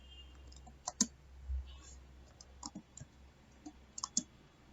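Keys on a computer keyboard click sparsely and softly, a few isolated taps and short pairs spread across a quiet room background.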